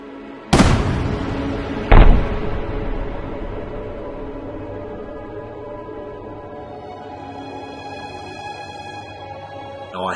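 Two loud, sharp gunshots fired at a near-bulletproof phone case, the first followed by a second about a second and a half later, each with a booming echo that trails away in an outdoor space.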